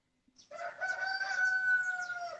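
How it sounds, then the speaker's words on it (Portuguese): A rooster lets out a single loud crow from fairly close by, one long drawn-out call after a brief moment of silence. "Olha o galo!"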